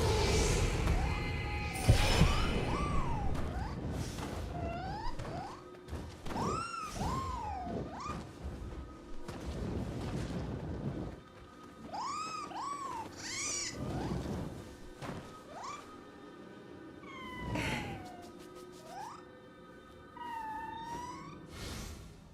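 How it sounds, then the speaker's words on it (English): Game sounds from Nioh 3 featuring repeated rising-and-falling meows of Scampus, a corpulent yokai cat, with several mewing calls spaced over about twenty seconds over thumps and mechanical ambience. "Scampus is a yokai in the form of a peculiar corpulent cat."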